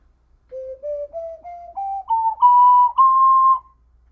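A lower-pitched ocarina plays a slow ascending scale of about eight pure, breathy notes, each held briefly and stepping steadily upward, solo and clear against silence.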